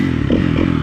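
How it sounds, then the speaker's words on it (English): A Kawasaki KX250F dirt bike engine idles steadily while warming up, a close, even low rumble with a slight clatter and no speech. "I let the bike go and warm up just to make it easier to start. I like to keep it idling around 2150."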